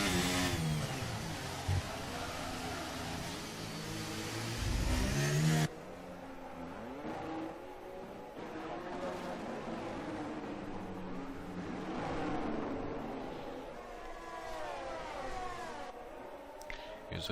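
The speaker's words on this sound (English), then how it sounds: "That's a lot of wheel spin." An F1 race car in the F1 23 video game at the Azerbaijan Grand Prix, its engine note rising and wavering as the rear wheels spin on a straight, with a loud burst early on, then a steadier, quieter revving that continues throughout.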